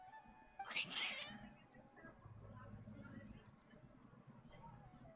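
Cats in the Genshin Impact video game give a loud, agitated meowing caterwaul burst early on, then fade into quieter game ambience and background sounds.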